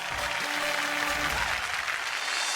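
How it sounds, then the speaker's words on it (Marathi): A studio audience on a Marathi television show claps steadily throughout, a dense continuous wash of applause with a faint voice underneath. "जोरदार टाळ्या होऊन जाऊ देत."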